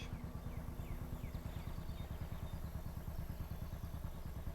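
Motorcycle engine in the WWII strategy game Gates of Hell, a steady low rumbling drone with rapid rhythmic pulsing, moderately loud and continuous throughout, with faint battlefield ambience behind it.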